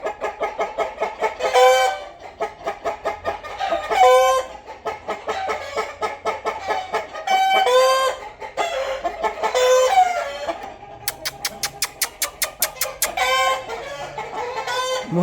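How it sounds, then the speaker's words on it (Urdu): Frightened roosters and hens on a poultry farm cluck and crow in loud, agitated bursts, several birds overlapping near and far, with a rapid rhythmic cackling run near the end; no talking. "مرغے پتہ نہیں کیوں ڈر گئے ہیں,"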